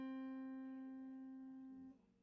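A single acoustic guitar note from the first fret of the second string rings alone and clear, sustaining steadily for nearly two seconds before being cut short.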